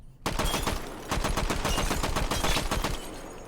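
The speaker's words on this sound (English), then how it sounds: "As we know, yes, definitely long range shooting" Rapid automatic gunfire rattles in a long, dense burst from long-range shooting in the video game Hot Dogs, Horseshoes & Hand Grenades, loud and close, with a short pause partway through and no talking.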